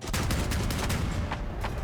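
Long-range cannon on an experimental walking vehicle in the Crossout video game, firing in a rapid series of loud, sharp blasts that run close together across the whole stretch.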